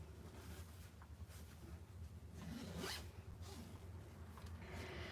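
A bag zipper pulled in a few quick, faint raspy strokes, with one longer zip in the middle, against a low background rumble.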